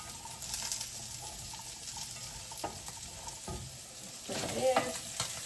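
Food seasoned with pepper and garlic powder frying until crispy in a pan. It crackles with a continuous close sizzle, broken by occasional scraping stirs, and a louder burst of stirring comes near the end.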